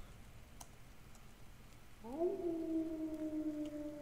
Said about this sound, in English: You just hear the timber wolves